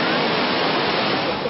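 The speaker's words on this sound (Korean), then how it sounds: "세계 3대 폭포 가운데 하나로 불려지는 유네스코 세계자연유산 이과수 폭포" Iguazu Falls, the vast UNESCO-listed waterfall, roars as a dense, steady wash of falling water, loud and close, with no break in the rushing sound.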